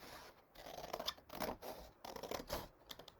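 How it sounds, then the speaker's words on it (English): Scissors cut through cardstock along folded guide lines in steady repeated snips with crisp scraping, close and clear, with no voice over them. "let me just keep cutting along these lines here"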